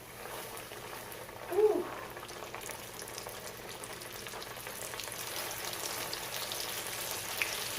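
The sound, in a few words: fish frying in hot oil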